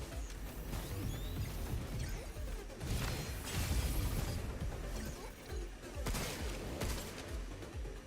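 Shooting in the video game Pragmata produces sustained, loud bursts of gunfire mixed with crashing impacts and heavy thuds, the volleys rolling on almost without a break.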